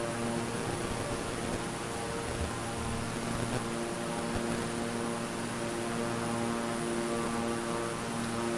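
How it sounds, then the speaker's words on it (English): A Beechcraft King Air 350i propeller plane in Microsoft Flight Simulator drones with a steady, loud turboprop hum and even engine tones, sustained without change as if heard from the cabin. "It's a lovely plane though, look at that. The King Air 350i."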